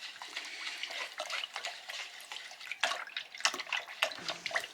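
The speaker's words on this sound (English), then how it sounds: "And we are done with this brush, so I'm going to rinse it out." Paintbrush rinsed in plain water, faint swishing and splashing with small drips in a quick irregular flurry, close and quiet.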